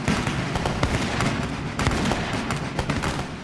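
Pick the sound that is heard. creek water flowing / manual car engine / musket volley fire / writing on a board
musket volley fire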